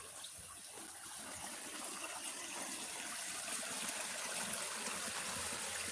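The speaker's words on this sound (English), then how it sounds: "That behind me is a river" A river runs just beyond a cave mouth in the woods, giving off a steady, broadband rush of flowing water that holds at an even level throughout, with no voices heard over it.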